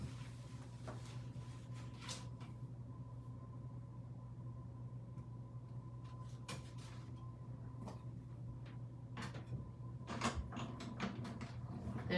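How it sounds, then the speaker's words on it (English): A die cutting machine grinds stitched rectangles from paper, a quiet steady motor hum and rumble with intermittent clicks and clunks of the mechanism, growing slightly louder toward the end. "I'm gonna cut those out with my die cutting machine"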